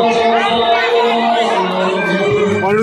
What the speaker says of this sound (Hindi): देख सकते हैं कितनी ज्यादा भीड़ हो चुकी है यहाँ पर अब